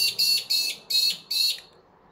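A nearby bird gives five sharp, high, bright chirps in quick bursts, fairly loud and set against a quiet room with no speech.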